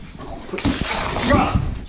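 Dog named Charlie with a stick stuck in its mouth, giving short muffled growls and whimpers up close, with a person talking over it.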